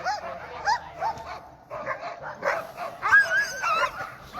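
Alaskan husky sled dog teams barking, yelping and whining at a sled dog race near the Knik Bar, Settler's Bay, a steady excited chorus of many dogs at moderate distance, overlapping barks and high yips continuing without pause.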